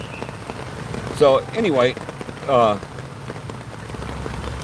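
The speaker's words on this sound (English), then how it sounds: "You can see the rain coming off my umbrella. It's really getting hard now." Heavy rain drums steadily on an umbrella at Plaza Libertad in Iloilo, a close, continuous patter with a voice speaking briefly over it partway through.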